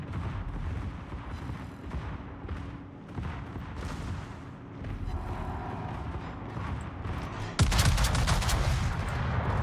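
Naval guns fire in the World of Warships video game, a dense rolling mix of booming shots and crackling secondary fire that swells into a loud burst near the end.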